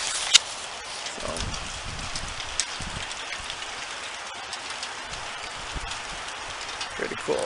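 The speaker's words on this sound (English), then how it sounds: "It is really, really cold outside, and the hail's coming down." Hail pelting down in a cold outdoor garden, a dense, steady patter of tiny hits with a few sharper clacks, close and fairly quiet, running on with no pauses and no clear voice.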